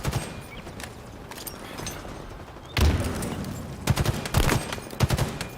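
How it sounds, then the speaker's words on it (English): Assault rifle fire in a Halo Infinite multiplayer match comes as scattered distant bursts, then louder, closer volleys of rapid shots crackling over the background game noise. "That was shooting me from a distance with an assault rifle"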